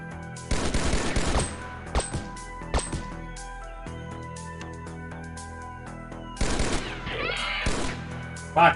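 Rapid bursts of gunfire crackle in the Xpiratez video game, with two loud volleys at the start and near the end and a few scattered single shots between them.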